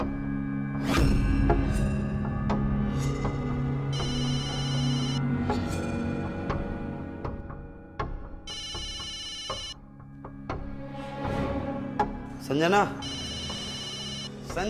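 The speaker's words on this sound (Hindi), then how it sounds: "तुम्हारा मोबाइल बज रहा है कब से?" A mobile phone rings with a repeating electronic ringtone in bright bursts over several seconds, while people talk nearby and call out between the rings.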